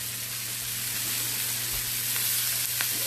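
Green cabbage cooks in a cast iron skillet with a loud, steady sizzle and frying hiss that stays constant throughout, with a couple of faint stirring scrapes and no speech.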